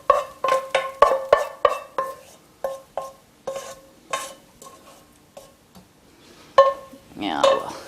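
Sautéed onions are stirred into an egg and milk mixture in a bowl, a spoon or whisk clinking against the sides in a quick irregular series of taps that thins out, then a brief louder scraping swirl.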